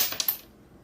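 Two 500-rupiah coins clink onto a lightweight duplex-board pendulum scale, a couple of sharp metallic ticks close together followed by quiet.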